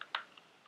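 A few quick keystrokes on a computer keyboard while a git command is typed: one distinct close tap followed by fainter clicks, with no voices.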